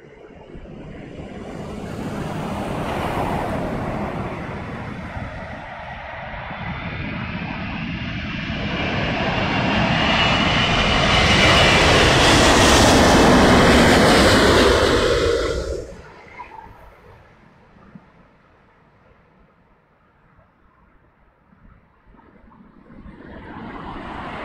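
An airplane lands in a strong crosswind during Storm Dennis. Loud, roaring engine noise and wind rumble build to a peak, then drop sharply to a quieter rush with gusty background noise and no talking.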